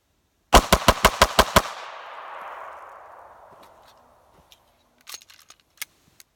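A Browning 1911 .380 Black Label pistol fires six rapid shots in quick even succession, loud and sharp, followed by a long echoing decay, then distant scattered answering shots.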